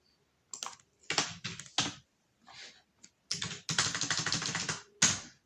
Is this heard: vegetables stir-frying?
no